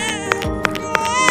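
A newborn baby left out in the bushes cries in a sustained, tonal wail, fairly close and steady, broken by a few sharp ticking clicks at regular intervals, with no talking over it.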